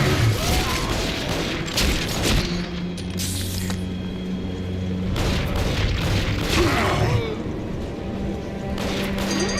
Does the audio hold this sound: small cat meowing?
no